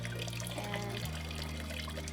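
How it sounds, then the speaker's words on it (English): Water pours steadily from a small bucket for a shower, a continuous close splashing stream that runs throughout with a low hum underneath. "They fill up a little bucket, and then I pour this out."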